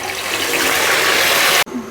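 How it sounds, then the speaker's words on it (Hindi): One cup of water poured into melted sugar in a pan over a low flame, a loud rushing gush for about a second and a half that stops abruptly, then a brief bubbling hiss. "लो फ्लेम पे मैंने इसमें 1 कप पानी डाल दिया है"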